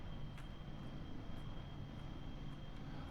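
A plane engine taking off in Kerbal Space Program, heard as a steady, fairly faint aircraft drone with a thin high whine running throughout and no talking.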